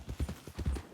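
Horse hooves clip-clop in Red Dead Redemption 2, a steady run of close, fairly loud, evenly spaced beats with no voices over them.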